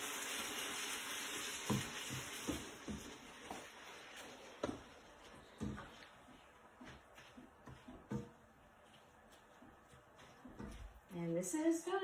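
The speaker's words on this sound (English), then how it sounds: "So I'm just kind of making sure that the spaghetti squash gets divided up a little bit more than it currently is. Mixing in" Eggs stirred into spaghetti squash in a frying pan for a low-carb pad thai, with soft sizzling and scraping stirs throughout, a voice talking over it and a louder clatter near the end.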